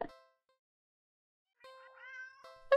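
A cat in the video game Do Not Take This Cat Home gives a short meow, then a longer rising meow after a silence, ending with a louder abrupt cry; nobody talks over it.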